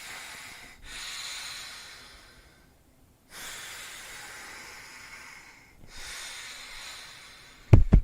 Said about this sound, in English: rest halves is where I breathe in, maxing out, breathing out halfway